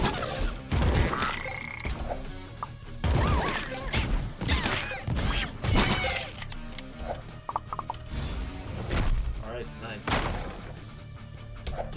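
Frogs croak in the roguelite game AK-xolotl, with repeated croaks mixed with clattering mechanical game effects and sharp hits, while a voice talks over them throughout.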